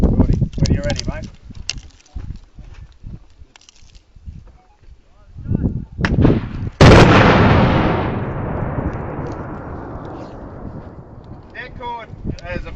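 A detonating cord blast at a mine site: after scattered talk and wind-buffeted bumps, one sudden loud sharp crack erupts, followed by a long rumbling roar that slowly decays over several seconds, with voices resuming at the end.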